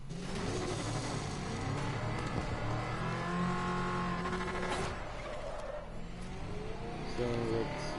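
Batmobile from Batman: Arkham Knight driving and revving its engine, a loud continuous game engine roar with rising revs, skids and tire squeal, mixed with game music and effects throughout.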